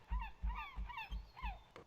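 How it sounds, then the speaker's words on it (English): A gull in a video game gives a rapid series of about five harsh, honking calls in an even rhythm, close and clear with nothing else behind them. "Shut the fuck up, seagull!"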